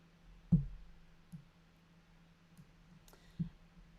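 A computer mouse clicks while someone works in Excel. Sharp, close single clicks are spaced apart over a quiet room hum, and no clear double-click pair is heard.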